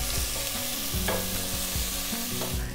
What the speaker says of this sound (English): Just fry off the aromatics for a couple of minutes.